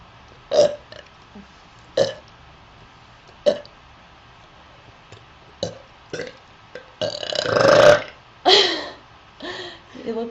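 A girl lets out a string of short burps at intervals, then a longer, louder drawn-out belch near the end, with some voiced laughter or chatter around them, all close and clear.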